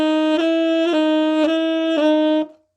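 Tenor saxophone holding one note while the player works the F to F-sharp crossover fingering, giving four or five evenly spaced floppy wobbles in the tone before the note stops; close, solo, no talking.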